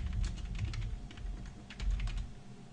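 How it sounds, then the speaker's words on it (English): Typing on a computer keyboard while entering code, a steady patter of close, light key clicks with irregular rhythm over a low background hum. "Let's see if I typed that all in correctly"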